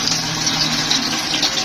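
Water gushes from a geyser tap at full pressure in a steady, loud, hissing stream that does not let up.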